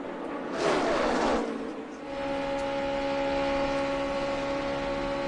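NASCAR stock cars race at Talladega in the 2011 Aaron's 499, with a loud car sweeping past early, then a steady, droning engine pack holding sustained tones.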